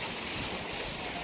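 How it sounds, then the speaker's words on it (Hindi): Sea waves wash onto the beach at Phi Phi Island in Thailand, a dense, continuous roar of surf mixed with wind, loud and unbroken. "देखिए लहरें"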